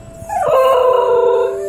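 A Basenji hunting dog gives its curious non-barking call, a single loud, close yodel-like howl that rises and then holds a wavering tone for over a second, with no one talking.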